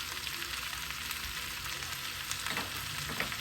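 Gizzard and pepper frying together in a pan with seasoning, a constant close sizzle with a few scraping stirs late on, no voices.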